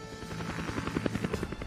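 Jolly Green rescue helicopters carrying Marines ashore, a loud steady rotor thump with a rapid pulsing beat and droning engine whine, continuous throughout with no voices.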